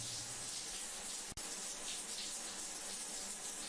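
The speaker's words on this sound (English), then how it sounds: "If you walk up to a running shower with a cracked open door" In the video game Mars Vice, a shower runs behind a cracked-open door, a steady hiss of falling water, fairly faint and constant, broken only by one brief click.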